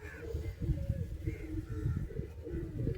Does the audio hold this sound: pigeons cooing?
yes